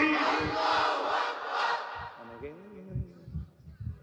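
A large crowd at an Islamic religious sermon gathering roars a takbir slogan in unison, a loud sustained chant that fades into scattered voices and thumping noises.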